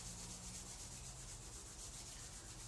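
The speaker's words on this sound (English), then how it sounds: "And then rubbing the hands together." Palms rubbing briskly together during a yoga class, a steady dry friction hiss that holds evenly throughout with no pauses and no talking.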